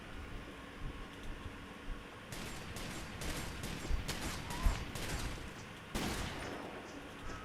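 A double-barrel gun fires in a video game: several faint, sharp shots spread across the stretch, each a short burst, with low background hum between them.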